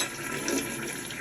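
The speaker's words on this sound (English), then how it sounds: "let me attempt this flush again" A household toilet flushing again after its tank finished refilling, a steady broadband rush of water running close by for the whole moment with no talk.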